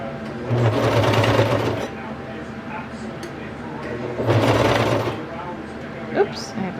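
A sewing machine stitches a kids' raglan T-shirt in two bursts of steady whirring, near and moderately loud, with a quiet pause between runs and a brief click near the end.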